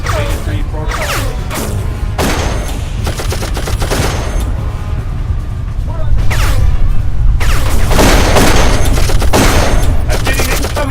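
Sustained automatic gunfire and scattered single shots in the shooter game Darkest Of Days, loud and dense throughout, with heavier bursts in the second half and a faint voice now and then.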